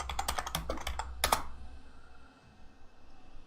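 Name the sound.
typing on a computer keyboard to type in chat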